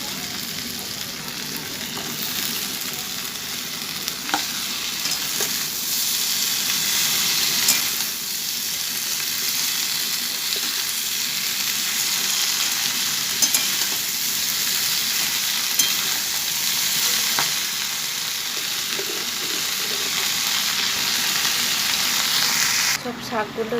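Malabar spinach is fried and stirred in a hot pan, giving a steady, dense sizzle that runs the whole time, with occasional scraping strokes of the stirring utensil on the pan.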